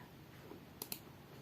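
Two quick, faint clicks of keys on a computer keyboard while typing code in a quiet room, with no one speaking.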